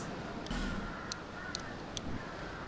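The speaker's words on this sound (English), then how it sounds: "Birds." In Dark Souls 2, crows caw four times in short, evenly spaced calls over a low, steady ambient drone.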